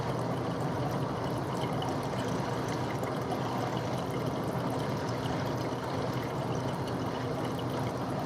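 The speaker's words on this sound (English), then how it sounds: "how does the water stop right when I'm gonna drink water?" Water runs steadily from a sensor-activated tap, a continuous broadband splashing and trickling stream heard close up at even strength with no break.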